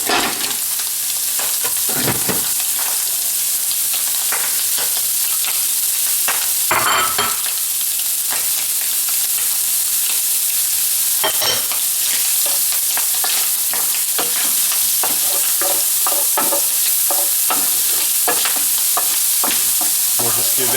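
Bacon fries loudly with shallot, garlic and chilies in a pan for a creamy lobster and tomato fettuccine, a continuous dense sizzle broken by repeated scraping and stirring sounds throughout.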